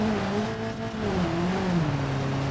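A durable four-cylinder car engine runs without its oil pan or oil, a steady, loud drone whose pitch sags and wavers slightly, with no talk.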